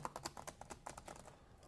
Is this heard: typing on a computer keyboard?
yes